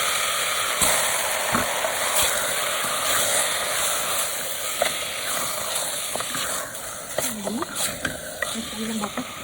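Beef frying in a pan with garlic, onion and tomato, a steady close sizzle with occasional stirring scrapes and clinks, the hiss continuous throughout.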